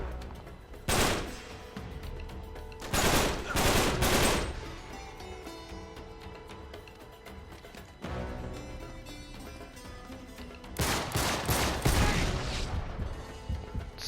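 Enemy gunfire in a video game: several loud bursts of automatic fire in separate clusters, sharp rapid shots between quieter stretches of background game sound.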